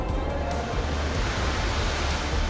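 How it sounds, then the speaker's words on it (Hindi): Flash-flood water after a cloudburst in Mandi, Himachal, rushing in a loud, steady, broadband roar that fills the whole stretch without pause, close and overwhelming, with no voices. "ऐसा सैलाब बहने लगा जैसे कोई झरना बह रहा हो"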